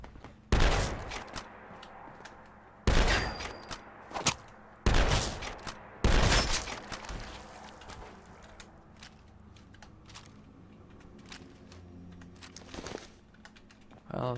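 Gunfire in the video game Fallout London, several loud bursts of rapid shots separated by pauses, followed by quieter clicks and rattles, close and dominant.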